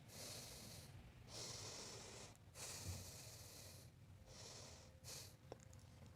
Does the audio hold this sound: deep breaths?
yes